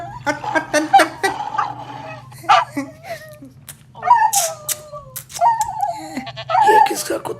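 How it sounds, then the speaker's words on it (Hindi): A dog yips, barks and whimpers in short, uneven bursts close by, while people talk loudly over it and a low steady hum runs underneath. "ये किसका कुत्ता उठा के ले आया?"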